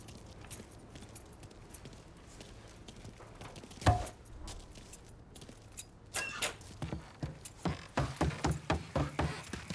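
Car keys jangle inside a car in the Mafia 3 video game, sparse metallic clinks at first, then a quicker run of rattling jingles near the end, with no speech.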